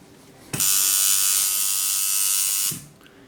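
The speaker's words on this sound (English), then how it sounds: "I can hear the machines running correctly at 6 volts" A tattoo machine runs steadily at 6 volts with a bright, even electric buzz that switches on abruptly, holds for about two seconds without sputtering, then cuts off.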